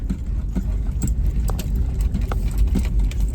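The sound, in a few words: big full-size trucks driving by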